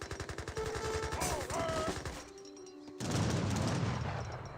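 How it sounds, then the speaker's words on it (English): Gatling guns firing in a busy Age of Empires 3 battle: a rapid, rhythmic stream of mechanical shots for the first seconds, then a burst of distant gunfire and rumbling battle noise, all moderately quiet. "Gatling guns firing away."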